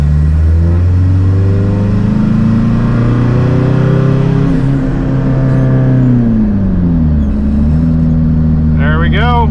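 A car engine revs hard while accelerating in third gear, a loud, close, sustained roar rising steadily in pitch, dipping briefly at a shift, with a person speaking underneath.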